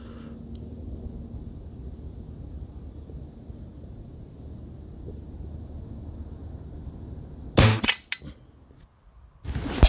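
A Diana 54 AirKing Pro air rifle fires at a 35mm rat target 45 yards away outdoors: one sharp, loud crack after a stretch of faint wind and background hum, followed by a second brief burst of noise.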